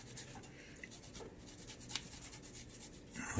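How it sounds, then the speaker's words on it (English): Fresh ginger grated very finely on a small mini cheese grater, a faint quiet scraping and rubbing with soft intermittent strokes, close up and alone. "I'm going to grate that real fine"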